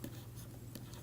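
A brief burst of writing strokes on a lecture board, soft scratchy marks over a constant low electrical hum, no speech.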